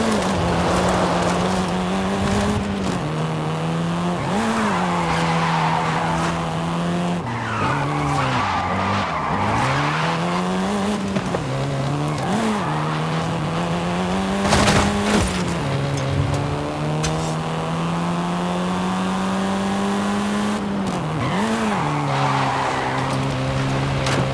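A car driven hard in Forza Horizon 5, its engine rising and falling through gear changes while tyres squeal and skid in repeated bursts, loud and continuous with no talk.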